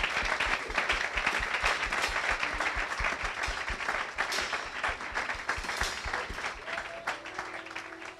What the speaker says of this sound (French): Acclamez Jésus. Betela Yesu maboko makasi.